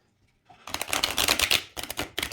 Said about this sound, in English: I'm going to shuffle and see how it shuffles